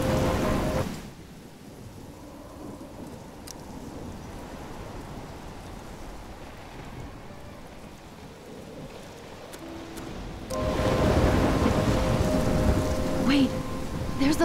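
Thunderstorm in the video game Life is Strange Remastered: heavy rain hisses steadily, a rumble of thunder drops it to a softer patter, and then the downpour surges back loud near the end.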